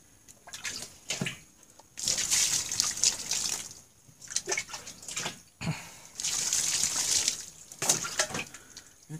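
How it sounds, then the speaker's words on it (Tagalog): Water pours and splashes in uneven bursts while feet are washed inside a small kubo house, close and moderately loud, with dripping and trickling between the heavier gushes. "Maghugas lang tayo ng paa."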